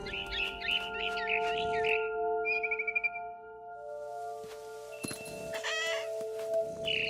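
Cat vocalizations sound in What Remains of Edith Finch against a steady humming game soundscape, with short meows and chattering bursts, a few bright chirps, and a rustling scuffle near the end.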